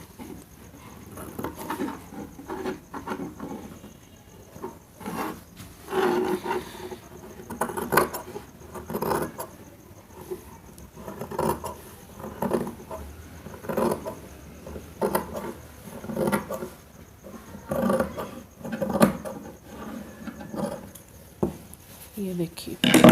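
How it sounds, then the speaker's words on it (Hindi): Scissors cutting the back and shoulder of a kameez fabric, with a series of soft snipping and rustling sounds under steady talk. "तो अब हम ये बैक जो है कंधा वो काट लेंगे।"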